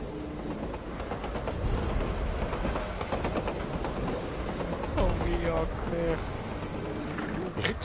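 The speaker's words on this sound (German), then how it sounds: "Ich höre da ganz deutlich einen Zug durchfahren" A train rumbling past in the video game Borderlands 2: a steady, broad roar that lasts the whole stretch, with a voice talking over it.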